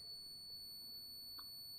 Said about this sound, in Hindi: इस पर भी कंटिन्यूटी वही बीप का आवाज़ आ रहा होगा